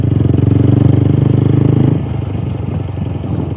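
A Yamaha R15 V4 motorcycle engine on the move hums loud and close with a steady throb. Partway through it drops to a lower, rougher rumble as the rider eases off.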